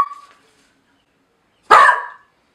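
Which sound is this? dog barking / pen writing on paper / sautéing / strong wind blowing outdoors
dog barking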